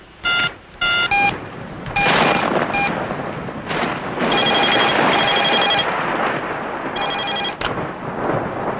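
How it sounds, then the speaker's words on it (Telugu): A telephone in a Telugu film scene rings in loud, bright electronic trills, repeated bursts with short gaps between them against a busy, noisy background. "మిస్టర్ గుప్తా ఫోన్ చేశారు."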